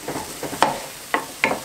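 An omelette being broken into small pieces in a pan, with quiet repeated scraping and stirring strokes over a faint sizzle, several sharper clinks of a utensil against the pan.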